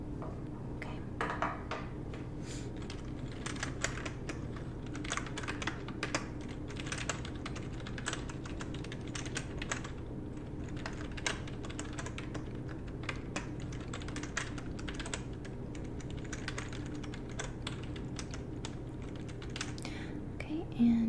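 Soft continuous typing on a computer keyboard in a quiet close-up setting, steady rapid key taps for about twenty seconds with a faint low hum beneath and no talking.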